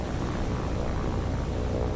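Enemy float plane in the naval game War on the Sea, a steady, droning propeller engine roar that stays constant and fairly loud, no voices.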